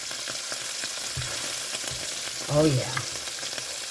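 Cube steaks sizzling in a frying pan as they are flipped, a steady loud crackling hiss throughout with a brief scrape and thud of the turn, and a short spoken exclamation.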